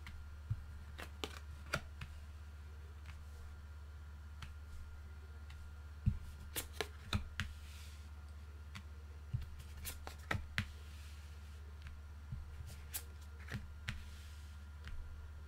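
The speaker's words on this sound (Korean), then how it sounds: "타로 카드 열어볼게요." Tarot cards are handled close by as a deck is opened and laid out. Soft irregular flicks and taps of card on card are scattered over a steady low hum, with no talking.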